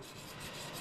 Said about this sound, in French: Et donc on vient mettre nos pierres comme ça, une perceuse au bout, et on vient tourner